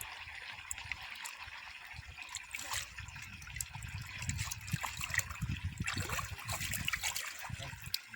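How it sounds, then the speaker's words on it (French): Water flows steadily from a pipe into a fish pond, a continuous trickling and gurgling splash at close range that stays even throughout with small bubbling bursts. "de l'autre côté, l'eau commence déjà à couler"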